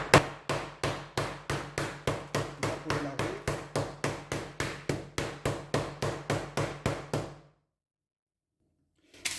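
Puff pastry dough being struck and tapped by hand to widen it: about twenty loud, evenly spaced thuds in a steady rhythm, close up, ending abruptly before a short silence.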